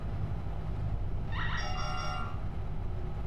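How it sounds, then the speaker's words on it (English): A tonal alarm in Star Citizen sounds briefly while mining a Quantanium node, a couple of layered beeping tones rising over a constant low ship hum. "Yep, just got the alarm."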